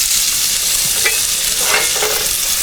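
Bacon sizzling in a pan while cooking at a camp, a loud, steady, dense frying hiss with a few faint scraping stirs, no voices.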